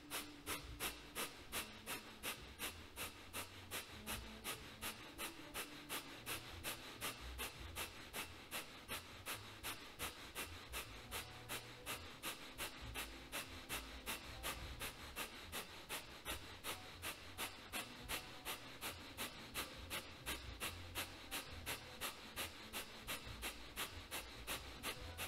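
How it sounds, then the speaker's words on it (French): Kapalabhati yoga breathing: a long, steady series of rapid, forceful nasal exhalations in a quick, even rhythm, close and fairly soft, with no talking. "Kapalabhati, grande inspiration"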